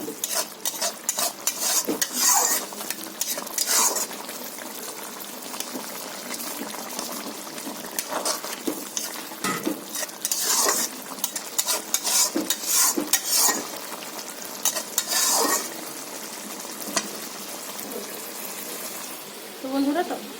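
A spicy small-fish curry with mango simmers in a pan while a spoon scrapes and stirs it repeatedly, close and busy, with a steady bubbling sizzle throughout.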